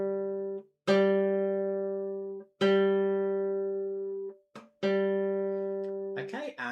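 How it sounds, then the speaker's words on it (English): A guitar's G string plucked three times during peg tuning, each note ringing out clear and close, then slowly fading before the next pluck, with a brief scrape at the end. "Again, just adjusting the pegs until they sound in tune."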